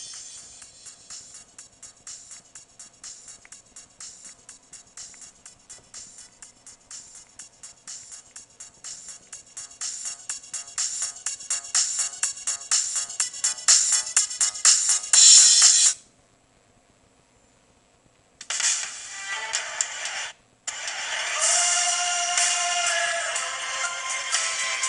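Chinese music ringtones play from a Ciphone 3G phone's small tinny speaker, a long bright melody with a quickening rhythm that breaks off into silence, then resumes with a different tune.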